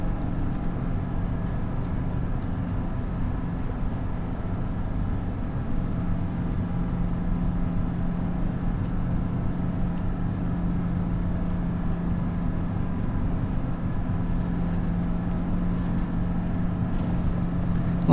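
A tracked tractor engine runs in Farming Simulator 25, giving a steady, low rumbling drone that holds at an even level throughout without pauses.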